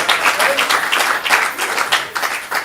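A comedy club audience applauds a stand-up comedian, a dense wash of clapping that holds steady throughout with voices mixed in.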